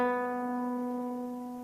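A single classical guitar B string plucked in tune rings as one clear, sustained note, slowly fading, close and alone.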